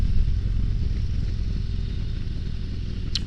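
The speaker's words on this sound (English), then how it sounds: "This is the Road Glide Special." A 2023 Harley-Davidson Road Glide Special on the move, its engine rumbling low and steady under strong wind rush, with a brief sharp click near the end.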